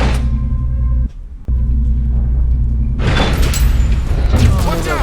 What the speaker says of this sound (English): Oh, look how fast that elevator was.